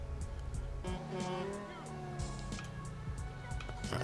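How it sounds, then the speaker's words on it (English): Traffic in modded GTA 5 on a Chicago city map, cars rumbling and driving past with a few tire squeals, a steady moderate engine bed with talk over it. "So now you can see the cars driving around."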